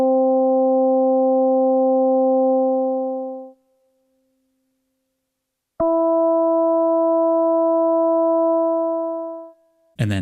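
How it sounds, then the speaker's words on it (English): An Ambient Ø synthesizer sequencer steps slowly through its sequence, sounding two long sustained harmonic tones separated by a pause, with a short click at the very end. "by default, it's going to step through the sequence at a very slow speed, as you're about to hear when I press this play button"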